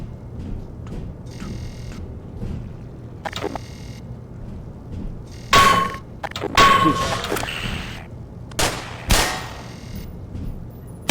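Gunfire in the Black Mesa video game, several sharp loud bursts arriving in clusters over a low rumbling game background.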